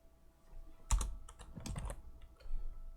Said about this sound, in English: once you've just finished typing